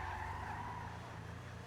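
Tires of a Lampidati Pigalle screech steadily in a brief, continuous skid while the car drifts in a racing video game, with engine noise underneath and no voices.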